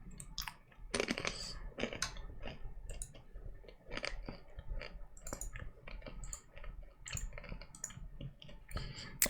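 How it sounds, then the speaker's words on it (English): Scattered crisp crunches and clicks from someone eating, arriving in irregular bursts close to the mic, with quiet gaps between bites. "Hopefully you don't hear my crunching in your sleep."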